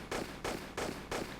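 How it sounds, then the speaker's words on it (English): Gunfire from a Tomb Raider Chronicles boss fight comes as four evenly spaced, broadband video-game shots in quick steady rhythm, loud and dense, with no talk. "it's hard to tell if your gunshots are actually damaging him"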